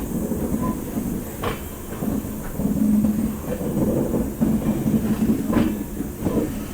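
Amrit Bharat Express train pulling out of Asansol on its Howrah to Delhi inaugural run, heard from onboard as a loud steady rumble with a low hum, rolling clatter and occasional sharp knocks.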